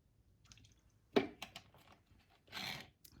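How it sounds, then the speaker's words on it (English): A single close, soft liquid slurp as someone takes a sip of water, followed by a quiet swallow and a longer breathy exhale or gulp, faint and alone in a quiet room. "Sorry, I need a sip of water there."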